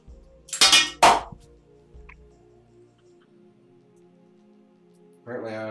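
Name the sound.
screwdriver clanging against metal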